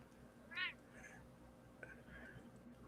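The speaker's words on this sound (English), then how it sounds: "My cat's a little hungry" A hungry pet cat gives one short, fairly close meow, then a couple of fainter, softer vocal sounds follow over quiet room noise.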